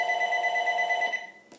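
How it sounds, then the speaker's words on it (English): A telephone rings indoors with a steady, continuous electronic tone that holds evenly for about a second, then cuts off and fades into quiet room noise. "I'm trying to figure out whether I should talk over that ringing of the phone or whether I should keep on talking."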